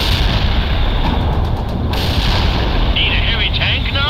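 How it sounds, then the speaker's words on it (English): Loud, continuous battlefield gunfire and artillery in the World in Conflict video game, with repeated booming shots and RPG blasts layered over a dense rumble and no letup. "Everyone and their grandmother is shooting at us with RPGs!"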